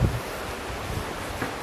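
Steady rushing flow of the Lehigh River heard outdoors, a broad even wash of water noise with some wind, no voices.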